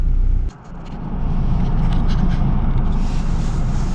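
Steady engine and cabin rumble from a car driving through light snow flurries with the heater running, a loud continuous drone that dips briefly near the start before settling back.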